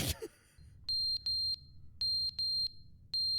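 A smoke detector in the video game The Stanley Parable sounds a series of sharp, high electronic beeps in irregular bursts, loud and clear after a brief bump, with a faint low hum underneath and no talking.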